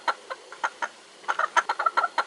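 A pet hen in Sedona, Arizona gives a run of short, close clucks, a few spaced at first, then a quicker cluster of sharp, bright notes, with no voices.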